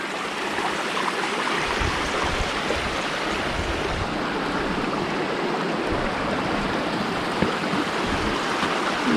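The Bunggo River in Calamba, Laguna rushes steadily, a dense, continuous roar of flowing water heard close with no breaks and no voices.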